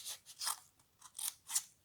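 Scissors trim paper tabs for a handmade mini card pouch, giving about five crisp, close snips in an uneven rhythm with short quiet gaps between cuts.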